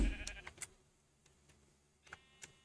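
Faint sheep bleats come from a video game, a couple of short thin calls at the start and again near the end, low in a quiet mix of soft clicks and background hum.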